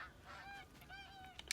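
Geese honk in the hunting video game The Hunter: Call of the Wild, a steady run of overlapping nasal calls close by and fairly loud, repeating in quick rhythm with a brief thump near the end.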